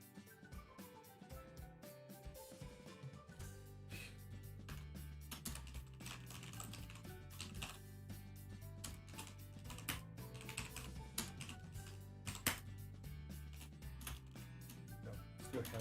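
Quiet, steady typing on a computer keyboard while notes are taken, a rapid irregular patter of key clicks that runs throughout with a faint hum underneath.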